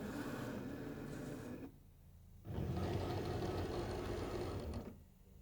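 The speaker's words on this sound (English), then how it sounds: "The machine will measure to make sure that you have enough material before it cuts." A Cricut Explore 3 cutting machine loads and measures Smart Vinyl with a steady mechanical whirring hum, dropping out briefly twice, close and alone.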